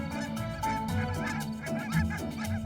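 Geese honk repeatedly in a dense, overlapping flock call, loud and steady throughout, with several birds calling at once over open farmland plateau.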